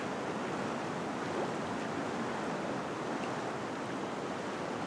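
A river in Georgia used for gold panning rushes in a steady, dense wash of flowing water, loud and unbroken throughout with no voices.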